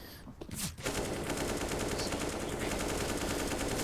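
Rapid automatic gunfire from a Counter-Strike match fills the clip, a dense continuous burst of shots through smoke following a brief quieter opening, loud and sustained to the end.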